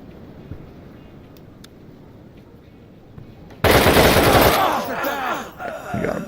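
Automatic gunfire in the tactical shooter game Door Kickers 2: after a quiet stretch, loud rapid bursts break out and continue with echoing shots and a few pauses.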